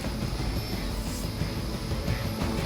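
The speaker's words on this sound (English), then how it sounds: "Stop that chopper, please." A helicopter in Marvel's Midnight Suns flies close by, its steady, loud engine and rotor roar continuing throughout.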